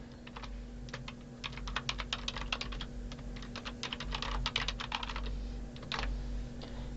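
Rapid, irregular keystrokes on a computer keyboard as a comment is typed into a file, with bursts of clicks and short pauses under a steady electrical hum, no voices.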